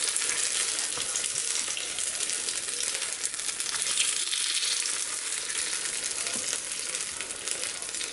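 Ebelskiver batter sizzling in a Norpro cast iron pan, a steady, dense crackling fry hiss that holds throughout without pause.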